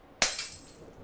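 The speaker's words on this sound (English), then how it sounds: "I flinched as I heard the glass break" A pane of glass shatters in one sudden loud crash, its bright ringing shards trailing off over about a second, alone with no talk.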